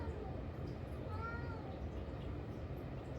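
A cat meows once, a brief rising-falling call at moderate distance over a steady low room hum, with faint background voice.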